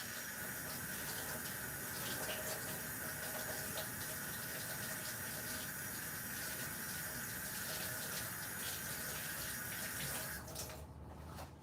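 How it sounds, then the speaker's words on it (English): Water runs steadily from a sink tap while hands are washed, a continuous close splashing rush that lasts for over ten seconds before the flow cuts off. "first I'm going to wash up"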